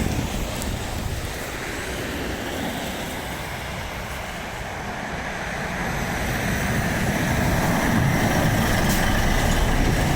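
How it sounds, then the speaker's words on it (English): A big truck passing at the Skeoch roundabout in Stirling, Scotland, its deep engine roar and road noise building steadily and growing louder toward the end, with wind buffeting the microphone. "There's a big truck coming"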